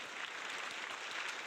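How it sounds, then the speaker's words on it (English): Applause for guests on a podcast, a steady wash of clapping that holds evenly through the short moment at moderate-to-faint level, with no voices over it. "where's my clapping?"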